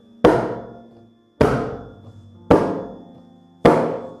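Closed 'ka' stroke on a mridanga with four fingertips pressed onto the drumhead: four evenly spaced, dull, muted thumps, close and fairly loud, each dying away quickly before the next.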